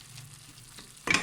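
A cooking filling sizzles and fries in a pot, a soft steady frying hiss that ends in a louder burst of sizzle as more goes in, close and without talk.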